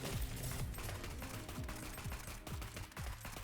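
Rapid gunfire in the Neon Abyss video game, a dense stream of overlapping shots layered with game music and effects, steady and moderately loud throughout with no voices.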